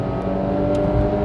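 A 2020 Renault Logan Zen 1.6 16v SCe engine revs hard toward high rpm as heard from inside the cabin, a loud, sustained drone that climbs steadily in pitch, with no talk.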